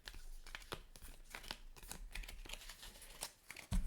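Oracle cards are shuffled and drawn with a run of quick, crisp papery flicks and taps in an irregular rhythm, close by and fairly quiet, with no talking.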